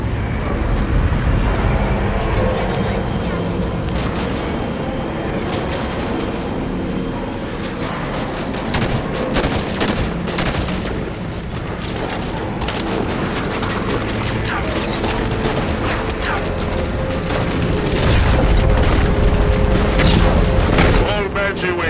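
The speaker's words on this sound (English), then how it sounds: "Kraken's on the move!" A towering Kraken walker from Halo 5 lumbers forward through a battlefield, its heavy mechanical clanks and grinding joints buried in a dense, continuous roar of gunfire, booms and crashing debris that stays loud throughout.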